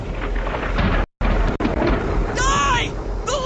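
Lightning strikes with a loud, booming thunder crash in the video game Infinity Strash: Dragon Quest The Adventure of Dai, rumbling continuously with a brief dropout and a few sharp whooshing effects layered over it.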